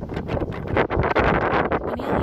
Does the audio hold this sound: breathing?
no